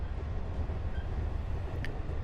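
A train rumbles along in a train-driving video game, a continuous low rolling drone with a faint high tone near the end, no talking.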